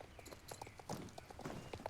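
Horse hooves cantering in the Star Stable video game, a rocking, even three-beat clip-clop repeating steadily on firm ground, close and moderately loud.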